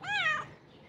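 A single close, clear meow from a cat named Tiger with an injured, swollen ear, short and rising then falling, followed by quiet room background.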